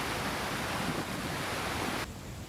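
Steady rushing of a stream at the confluence of two brooks on the Long Mynd, Ash Brook, a broad unbroken hiss of flowing water close by, dropping slightly in level near the end.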